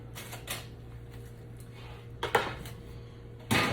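A baking pan of smoked sausage, red potatoes and corn comes out of a home oven: scattered metallic clanks and scrapes with a door-like thud near the end, over a low hum.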